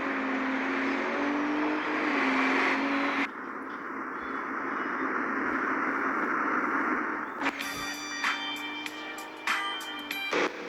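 Ford Explorer engine, a loud steady drone with a shifting tone that cuts abruptly into a different engine texture and then to a busier section with clicks and pops.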